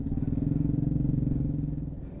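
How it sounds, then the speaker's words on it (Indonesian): Motorcycle engine idling and revving steadily at close range while the bike is helped across a landslide-blocked road near Matur on the way to Bukittinggi, a dense low rhythmic putter throughout that eases off at the end. "ini motor yang lagi dievakuasi agar bisa menyeberang arah"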